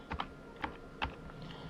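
A command being typed on a computer keyboard while repairing a pen drive: a few faint, close keystrokes in short uneven bursts, followed by a quiet pause.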